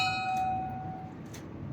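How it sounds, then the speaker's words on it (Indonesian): One clear bell strike marks debate timing, ringing with a bright, sustained tone that fades slowly over quiet background hum. "Akan terdapat suara bel dengan bunyi sebagai berikut."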